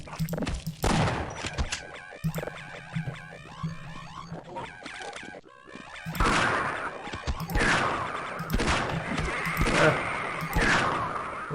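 Video game gunfire in a zombie shooter, with repeated sharp shots and bursts scattered across the stretch, some clustered, mixed with thuds and clatter at moderate volume.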